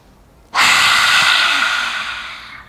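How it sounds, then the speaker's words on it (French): A single deep inhale through the nose begins abruptly, then stays loud, close and breathy for about two seconds before slowly fading, with no talking. "Inspire profondément par le nez"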